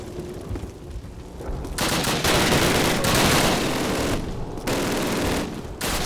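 Dense gunfire from the Call of Duty video game, a World War II night battle at Sainte-Mère-Église, with loud bursts of automatic and rifle fire overlapping almost continuously, swelling and dipping over several seconds without speech.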